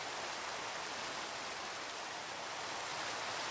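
Steady rain in a Minecraft-style video game hisses as an even, continuous wash of dense noise, constant in level and with no talk or other sounds.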